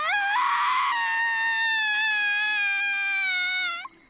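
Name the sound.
screaming from Higurashi When They Cry video game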